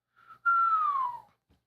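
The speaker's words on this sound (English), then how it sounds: "You let out a low whistle." A low whistle from the video game Post Mortem L.A., one clear sustained tone that slides gently downward and fades, preceded by a brief softer note, alone against silence.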